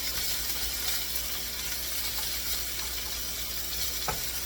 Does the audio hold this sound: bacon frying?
yes